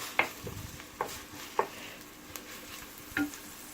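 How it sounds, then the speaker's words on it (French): Finely chopped onion frying in olive oil for an aubergine meatball tajine gives a soft, steady sizzle, broken by a few sharp clinks of a utensil stirring against the pan. "Je vais le faire revenir jusqu'à ce qu'il obtienne une couleur dorée."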